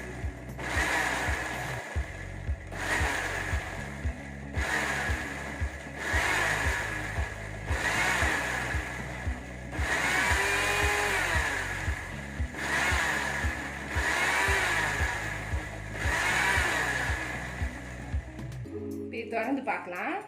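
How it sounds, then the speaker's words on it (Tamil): A mixer grinder runs in pulse mode on mayonnaise ingredients in the jar, cutting in and out in regular short bursts with a steady whine, then stopping near the end. "மிக்சி ஜாரில் போட்டு மூடிட்டு இதை பல்ஸ் மோடில் அரைங்க"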